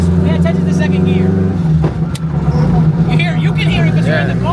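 A 1000 HP all-wheel-drive Honda Civic pulls hard in second gear on the street, its loud, droning engine heard from inside the cabin, dipping briefly before climbing again as people talk over it.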